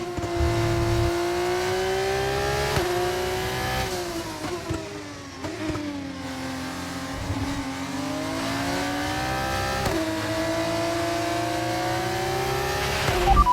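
F1 race cars racing in the video game F1 25, a steady high engine whine that rises and dips through gear shifts and accelerations, loud and continuous with no break.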